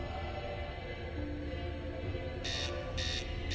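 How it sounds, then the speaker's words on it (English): A spaceship master alarm in a space survival video game sounds three short, bright beeps in an even rhythm over a loud, constant low rumble. "Master alarm. Collision imminent."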